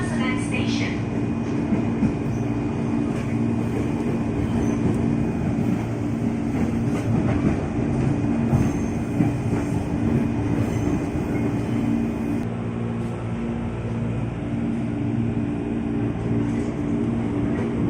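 A 12-car KRL commuter train runs through Pasar Senen station without stopping. A steady loud rumble and rolling wheel noise continue throughout, with a faint brake or wheel squeal early on and a sustained tonal hum, heard from on board.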